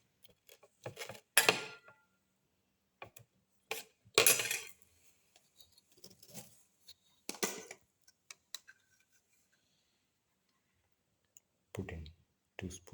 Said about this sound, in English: Crush all the ingredients together.